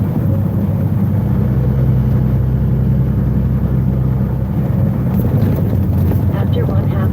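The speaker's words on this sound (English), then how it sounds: "Welcome there, Mr. Garbage Truck Man." A garbage truck rumbles past on a Louisiana road, a loud, steady low engine drone heard from inside a moving vehicle, with road and wind noise throughout.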